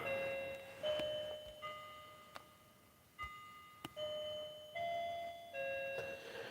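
An old family clock once owned by a grandmother chimes in a quiet room, a run of sustained bell tones in an even ding-dong sequence with a few sharp clicks between them, fairly near and unaccompanied.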